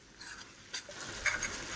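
Chinese-style dish with vinegar, soy sauce and chili sauce cooking in a home pan, giving a soft continuous sizzle with light stirring scrapes and a couple of brief clinks, fairly quiet and without talk.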